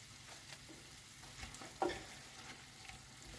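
A soy sauce mixture is stirred in a hot pan, giving a low, steady sizzle with soft scraping strokes and one brief louder clink partway through.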